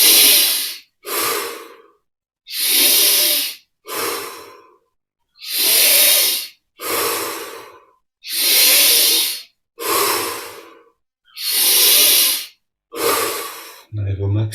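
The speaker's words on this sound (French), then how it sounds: "on augmente progressivement l'amplitude de chaque respire" Deep breathing during a guided yoga meditation, slow loud inhales and exhales alternating in a steady rhythm of about ten breaths, each a long airy hiss close to the microphone, separated by short silences.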